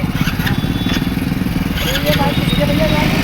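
A motorcycle engine idling and running with a close, steady low throb near a riverbank in Ghaziabad, with faint higher chirps over it.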